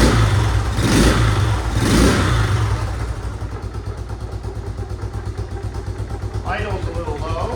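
A 1972 Honda XL 250 single-cylinder barn-find motorcycle runs after a kick start, a loud revving blip or two and then a steady, slightly low, pulsing idle close by, with a person speaking briefly near the end.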